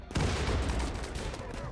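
A mortar round fires in Rimworld, a video game: one sharp, muffled thump that gives way to a dense, crackling rumble.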